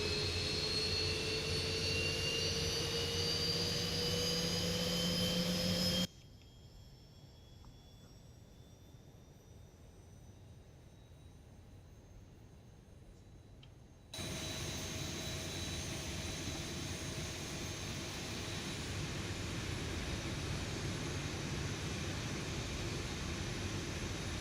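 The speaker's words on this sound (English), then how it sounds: "You see there, the engines have come alive." Boeing 737-800NG jet engines running just after start, a loud whining roar with rising tonal whines that drops to a much quieter hum midway, then returns to a broad steady roar.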